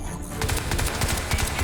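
Rapid automatic gunfire from a video game gun firing at a turret, a dense stream of shots that starts partway in and keeps up to the end.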